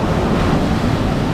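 Sea waves on the coast rush in a loud, continuous wash, close by and mixed with wind buffeting the microphone.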